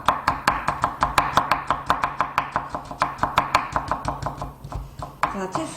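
A knife chops fast and steadily through peeled carrot slices on a cutting board, cutting them into julienne strips with crisp, evenly spaced taps, close and clear.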